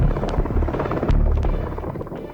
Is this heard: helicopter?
yes